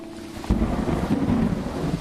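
A thunder and heavy rain sound effect in a radio ad: a sudden low thunder crack hits, then a sustained rumbling roar with steady hiss like pouring rain, no talk over it.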